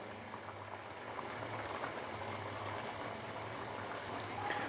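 About a cup of cooking oil is poured into a pan of cooking ojhri (tripe), giving a continuous bubbling, hissing sizzle at moderate level.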